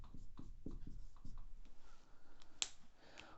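Marker writing on a classroom board, a series of short, close scratchy strokes at a quick rhythm followed by a sharp tap.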